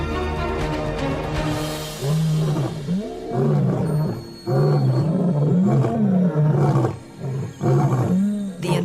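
Two eight-year-old male lions, the Nsefu pride brothers, roar loudly and close in a series of deep, rhythmic grunting calls, one rising and falling after another with short pauses in between.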